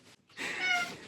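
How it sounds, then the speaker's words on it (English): A pet cat named Tora gives a single short meow close by, a brief clear cry after a faint sound, fairly quiet overall. "This is my cat. His name is Tora, and he's really cute and very annoying sometimes."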